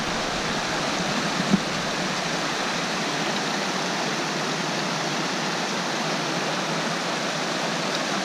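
Steady, loud rush of stream water flowing through willows in the Snowmass Wilderness backcountry, a dense, even broadband wash close by with no talking.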